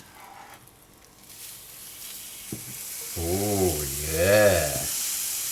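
Cheese sandwich frying in a pan right after being flipped, a steady close sizzle that swells louder, with someone briefly speaking over it.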